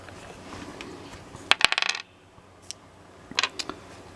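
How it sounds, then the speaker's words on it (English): Gaming dice lifted out of a dice tray, two short bursts of rattling, clacking plastic against each other and the tray, close up, separated by a brief quiet gap. "Let me take these other dice out of the tray."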